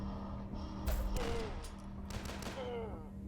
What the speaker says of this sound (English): That was a good shot.